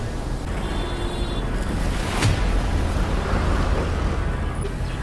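The Yamuna river flows at Wazirabad as a continuous, fairly loud rush of water mixed with gusty wind buffeting, steady throughout with no speech.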